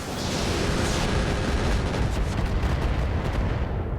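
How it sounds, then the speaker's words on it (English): A barrage of MRM missiles launching in the mech combat game RogueTech, a loud, dense roaring rumble of overlapping blasts sustained throughout with no talking. "I think we go ahead and fire the MRMs at this point."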